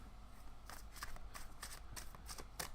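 Tarot cards shuffled by hand, a steady run of soft riffling snaps close up over a faint background hum.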